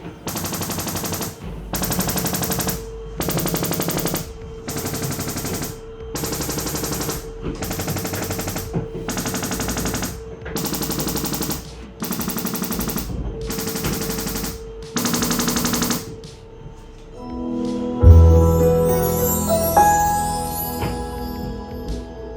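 A Sony STR-AZ5000ES receiver runs its room calibration, firing a loud series of about nine evenly spaced bursts of test noise, each lasting around a second, followed by softer scattered tones and clicks near the end.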